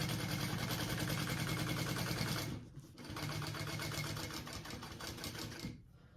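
A sewing machine runs top stitching through the seam allowance of a fabric bag, a steady rapid needle whir that is fairly loud and close, pausing briefly before running again, with no voices.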